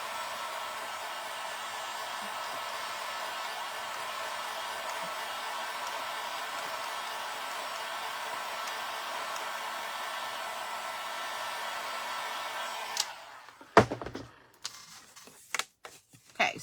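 A hair dryer blows steadily on a wooden barn door sign, a continuous broadband whoosh held for about thirteen seconds before it switches off, followed by a few scattered handling clicks and knocks.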